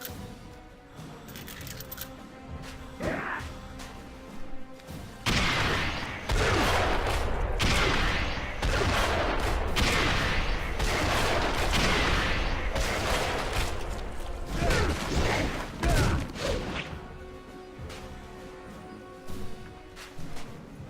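Rapid volleys of gunfire from weapons in the Hellboy: The Science of Evil video game, dense and loud, crackling almost continuously with bursts of scattered shots and metallic clinks.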